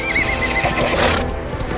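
A horse whinnies loudly in a close, full sound effect, a shrill wavering neigh with faint hoof clops beneath, lasting under two seconds.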